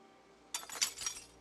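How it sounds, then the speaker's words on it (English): Broken glass being cleared from a vehicle window in the zombie survival game Project Zomboid: a sudden burst of bright clinking, tinkling shards lasting under a second, close and fairly loud, with no talk. "Let's remove the broken glass on this."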